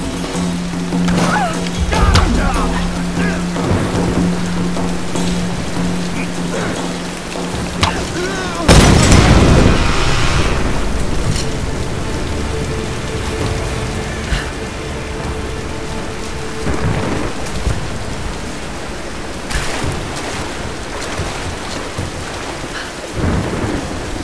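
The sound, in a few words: rain and thunderstorm in video game Tomb Raider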